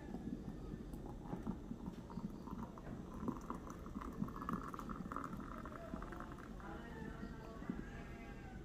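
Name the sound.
coffee from a moka pot being poured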